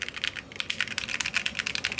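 A Keychron Q1 Pro mechanical keyboard with sound dampening is typed on in a fast, continuous run of close, crisp keystrokes with muted, even thocks and no talking.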